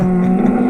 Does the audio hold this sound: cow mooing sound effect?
yes